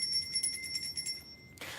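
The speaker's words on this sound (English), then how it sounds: "Let's ring the bell on this" A bell rung once or twice, its bright sustained tones ringing out and slowly fading over low background noise, with a short burst of noise at the end.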